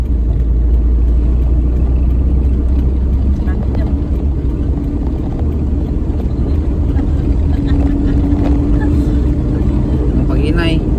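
A car engine runs loud and steady throughout a driving lesson, a constant low rumble inside the cabin with a faint rising tone near the end, while people talk over it.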